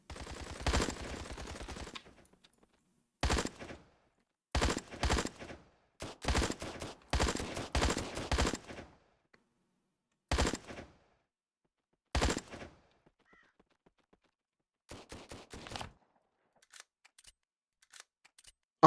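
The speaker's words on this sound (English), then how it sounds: "I switched to burst fire." Gunfire fired in repeated short bursts from an indie video game, sharp clusters of shots separated by silent gaps, loud and close, with no talk over them.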